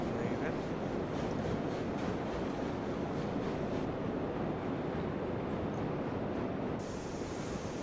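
A coal train moving in the video game Railroads Online gives a steady, loud rolling rumble with broadband rail noise that holds throughout without pause.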